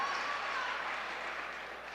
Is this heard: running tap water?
no